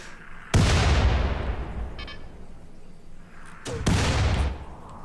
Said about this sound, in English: they're just shooting into the mountain as well